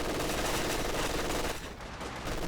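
Machine gun fire in Company of Heroes 2, a dense rapid burst of shots rattling loudly for about a second and a half, then dropping to quieter distant gunfire.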